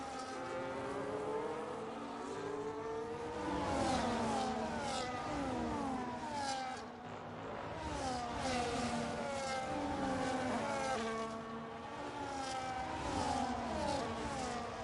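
Formula-style race cars, an Alpine chasing a Red Bull, in a sim racing game on a Mexico circuit, heard on board: loud engine revs sweeping up and down through repeated gear changes, with occasional tyre noise.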